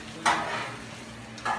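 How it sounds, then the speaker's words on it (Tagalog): Gyoza filling being stirred and mixed in a bowl, with two short scraping swishes at the start and end over a soft, steady background hum; no talking. "Kailangan ma-mix po natin talagang halong-halo or na-mix talaga siya"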